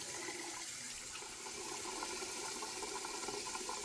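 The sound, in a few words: splashing water on the face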